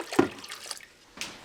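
Cold water poured from a cup into a pot of wild rice, a brief liquid splash and gurgle up front, then a quiet pause and a second short pour near the end.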